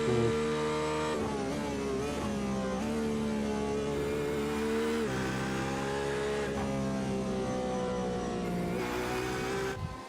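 A Corvette race car in a sim racing game laps the Nurburgring, its engine howling loudly and rising through the revs, dropping with each gear change, then climbing again, all of it close up and continuous.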